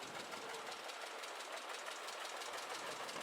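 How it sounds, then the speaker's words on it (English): A 1950 John Deere D tractor missing four cylinders, its engine giving a steady, fairly faint, uneven knocking chug at a parade, with a busy outdoor background over the whole stretch. "He is driving a John Deere D 1950 model. He says it's missing 4 cylinders."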